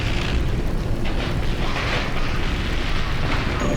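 A ship in the video game Dead Space is shot and blows apart, a loud, sustained roaring boom with rumbling that fills the whole stretch, no voices over it.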